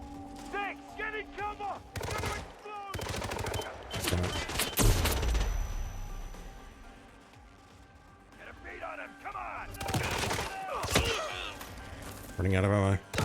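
Gunfire in Hitman 3, with rapid bursts of shots and heavy impacts breaking out in clusters over game music and effects, and someone talking between the volleys.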